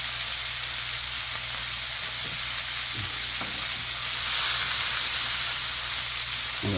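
Duck breasts sear in butter in a hot pan, giving a loud, continuous close-up hiss and sizzle with a few faint knocks of handling, and no voices.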